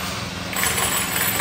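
A GX35 grass cutter fitted with metal and nylon blades runs at a steady high rev, its small engine giving a continuous buzzing drone close by with no pause or change in pitch.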